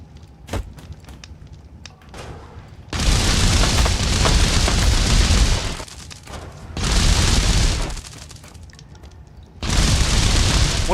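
Grenade explosions in the pixel-art Untitled Pixel Simulator game ring out as three loud, sustained roaring blasts, each lasting a couple of seconds with a few faint pops and clicks between them.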